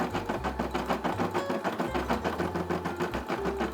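A Brother SE600 embroidery machine stitches out a Tommy Hilfiger logo with a rapid, rhythmic needle clatter over a low motor drone that changes pitch now and then. It sounds near and continuous, with no voices.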